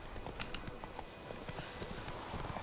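Horse hooves clip-clop in a brisk, steady gallop rhythm in The Witcher 3: Wild Hunt, a busy, fairly loud game soundscape.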